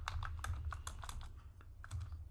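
Quick keystrokes on a computer keyboard while configuring a network lab, a close, steady run of light clicks and taps in irregular rhythm with no voices.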